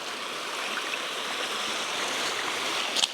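Steady rushing water of the River Walkham on Dartmoor fills the scene as someone crosses it on foot, a close broadband flow with a brief splash near the end.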